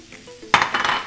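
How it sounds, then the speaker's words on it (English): Mushrooms hit a hot frying pan after a quiet moment, bursting into a sudden loud, close sizzle that keeps crackling and hissing, with faint clinks of utensils. "I'm going to add the mushrooms now"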